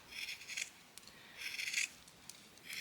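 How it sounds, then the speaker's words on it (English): Scissors cut through a section of free-motion stitched scrap fabric in two close, soft, crunching snips, each lasting about half a second, with light rustling in a quiet room. "I'm going to just cut that off and then sort of try and do a little circle"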